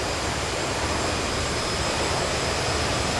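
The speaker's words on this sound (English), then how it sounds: "So I press and hold the button. It activates the reverse thrust." Roaring jet engine reverse thrust from an Aerosoft CRJ regional jet in Microsoft Flight Simulator 2020, a steady loud broadband rush that holds unbroken throughout with no voices.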